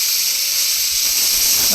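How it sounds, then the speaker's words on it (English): A 3F Jinty steam locomotive blows off excess steam from its safety valve, a steady, loud, continuous hiss without a break and with no voices. "she's just blowing off the excess steam"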